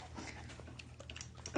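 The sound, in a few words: puppy panting at speaker's foot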